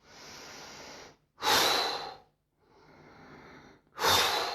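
Rhythmic open-mouthed breathing during an active bio-energetic meditation practice: two loud, rushing breaths alternate with two softer, longer ones, close and alone with no talk.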